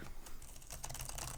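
Rapid, close clicking of keys typed on a SteelSeries laptop keyboard with Cherry MX switches, a dense run of crisp, snappy taps with no voices.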